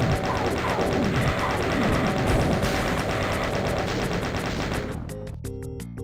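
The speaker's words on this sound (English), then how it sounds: "I need to switch to chain gun." Rapid chain gun fire in Doom 2 on a crowded city map, a dense continuous burst of shots layered with other gunfire and explosions for about five seconds, ending in several distinct, evenly spaced single shots.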